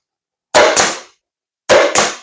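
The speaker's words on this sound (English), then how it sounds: "Now I got to use this handy staple gun." Handheld staple gun driving staples into the edge of a homemade wooden seed-starting tray: two pairs of loud, sharp snapping bursts, each pair quick double shots, separated by a pause.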